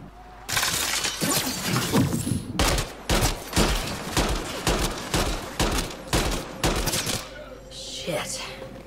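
Bursts of rapid gunfire crackle through a firefight in the Mass Effect: Andromeda video game, loud volleys and single shots stuttering over about eight seconds before cutting off, with a voice briefly speaking afterward.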